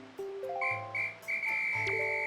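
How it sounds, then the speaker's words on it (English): Whistle-like tones ring out in Wind Waker HD, a string of bright sustained pitches stepping up and overlapping, fairly clear over a soft game backdrop with a low hum underneath. "Not sure who's blowing the whistle"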